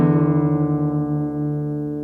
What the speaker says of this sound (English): play the D string, the 4th, and play the 6th string along with it while detuning it until you hear them